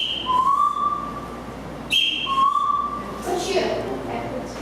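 A person whistles an imitation of a bird's call given when it spots an unidentified object, two clear repeated phrases each with a high note dropping to a sustained lower tone, over quiet room murmur.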